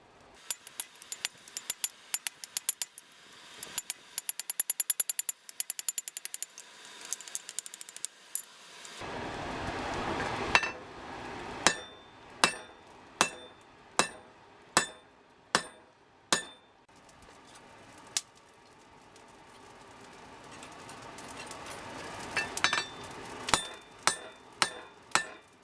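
Hammer blows ring out on a sword tang being forged separately from the blade: a dense clatter of strikes early on, then a steady run of about a dozen sharp, evenly spaced metallic hits, close and loud.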